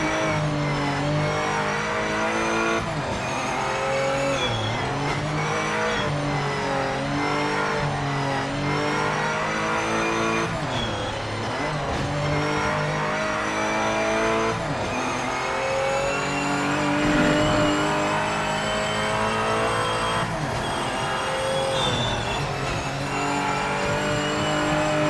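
Race cars in the racing game Project Motor Racing drone and rev continuously for the whole stretch, engine pitch climbing and dropping through gear changes, loud and steady with no voices.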